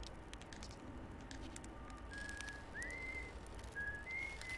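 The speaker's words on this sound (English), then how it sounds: "So this guy whistles." A character in the video game Outer Wilds, at the Eye of the Universe, whistles a few short, thin, clear notes, faint and fairly distant over a soft crackling background hiss with small clicks.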